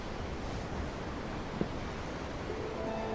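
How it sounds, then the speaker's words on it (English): Ocean waves in the Tales of Arise video game roll as a steady, soft, continuous wash of surf. A faint tone rises near the end, and no one speaks. "I'm looking at the ocean. The ocean? Yeah. The waves."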